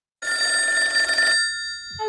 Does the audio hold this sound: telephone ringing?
yes